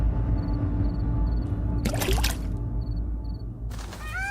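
Water poured over chickpeas to soak them, a short splashing pour in a quiet indoor setting, followed moments later by a second brief splash or trickle.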